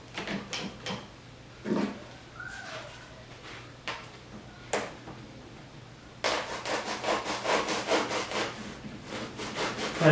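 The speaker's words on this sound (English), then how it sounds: "Last cut to make is to slice this thing off, and I use just a regular saw like this to make that happen" A regular hand saw cuts through a foam jug in scattered rasping strokes at first, then settles into a steady, fast back-and-forth sawing rhythm that grows louder, close up with no talking.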